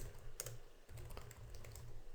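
Quick, steady typing on a computer keyboard while a document headline is written, with close, light key clicks in an even run and no one talking.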